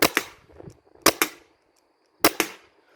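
An HDR 50 revolver fires in three close, loud reports, each a sharp crack followed quickly by a second snap like a double-tap, with quiet gaps between shots.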